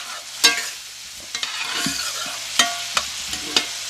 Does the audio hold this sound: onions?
yes